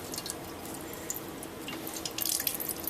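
Liquid drains and drips steadily from cooked pecan pie filling ingredients in a kitchen, a close, continuous trickle with scattered bright drips growing slightly busier toward the end.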